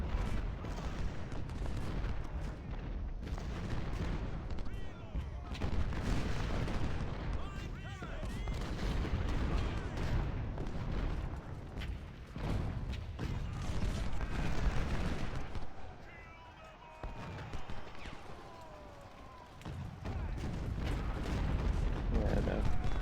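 Civil War artillery in Ultimate General: Civil War fires over and over, with booming cannon and scattered musketry forming a dense, continuous battle din. Someone talks now and then beneath the gunfire.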